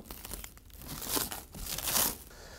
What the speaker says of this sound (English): use a knife and carefully cut all of the plastic from outside of the package